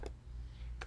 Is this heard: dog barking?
no